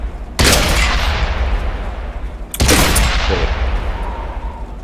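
Two heavy tank-gun shots in a World of Tanks-style armoured combat game, each a sharp loud blast rolling into a long booming decay, a couple of seconds apart.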